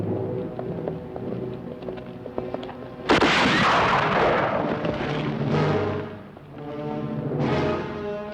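Rifle fire rings out in a Western drama, a sudden loud blast that echoes and decays, followed by a second shot, with hoofbeats or clatter in the background before it.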